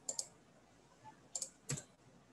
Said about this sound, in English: I will click on my search